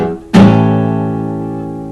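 A guitar chord barred at the 5th fret is struck once, loud and close, then rings out alone with a long, slowly fading sustain.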